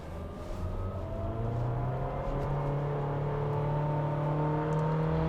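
A Honda HR-V EXL in Sport mode revs up steadily, its engine note rising smoothly in pitch as a continuous whirring drone heard from inside the car.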